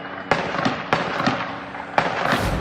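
Explosions from an attack crack out in sharp bursts like firecrackers, three or four loud distant booms over a continuous crackling rumble, with no voices.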